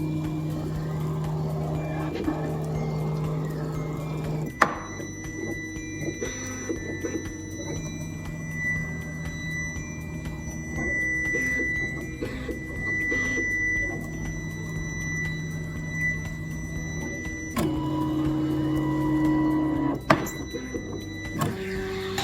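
A film cutting machine steadily cutting a chosen design runs as a continuous whirring and motor hum for over twenty seconds, with faint high servo tones, soft clicks and a few sharper knocks as the cutter moves.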